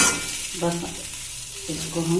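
Poha being stirred gently in a hot pan, a soft steady sizzle with light scraping under a person speaking close by.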